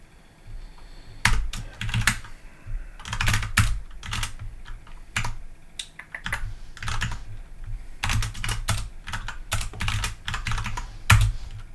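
Fast typing on a computer keyboard, dense bursts of crisp key clicks in quick runs separated by short pauses, close and fairly loud, no voices.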